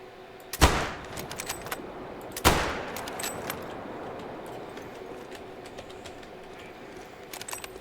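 Two sharp, loud gunshots from a low-recoil video game gun crack about two seconds apart, each trailing off into a long echoing decay over steady ambient background noise.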